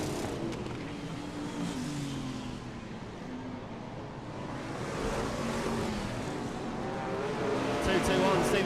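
BriSCA Formula 1 stock cars racing at Birmingham, with a continuous loud roar of several engines that swells as cars pass and tyres scrub, while a commentator talks over it.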